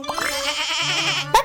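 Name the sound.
goat bleating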